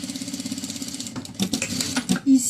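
A sewing machine runs a steady stitching line along the free edge of a zipper, its rapid mechanical whir holding even and close before a few louder clunks near the end.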